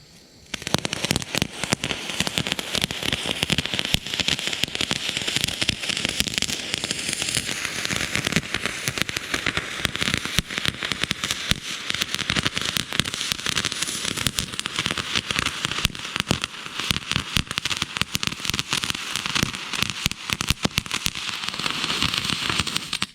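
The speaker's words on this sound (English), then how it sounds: "Up first we have the silver orange Crackle Fuse." Silver orange crackle effect fuse burning steadily for over twenty seconds, a dense, loud, continuous spray of sharp crackling pops with no pauses and no voices.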